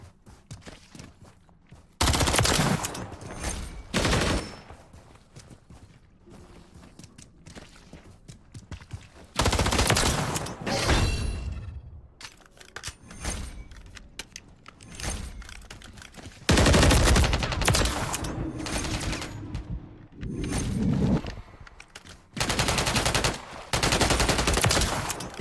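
Video game gunfire in rapid automatic bursts, loud and close, separated by quieter stretches of softer shuffling and clicks, with no voices.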